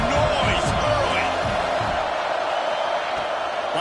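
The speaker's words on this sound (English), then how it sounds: "This crowd bringing the energy and noise early" Loud football stadium crowd at Penn State vs Colorado, a dense steady roar of many voices that holds level from start to finish, with commentary voices under it.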